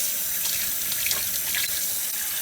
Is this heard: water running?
yes